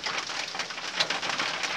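Steady rain falling in a Dayak forest setting, a dense continuous hiss of drops on surfaces, moderately loud, with a faint bird coo in the background.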